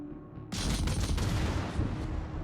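Heavy naval gunfire from warship guns in the video game World of Warships opens with a sudden loud blast after a quiet moment, then rolls on as a dense, booming barrage until the clip ends.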